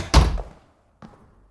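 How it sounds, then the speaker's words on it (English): A door shuts with a heavy, close thunk that rings briefly, followed about a second later by a softer second knock as it settles. "Shut the door."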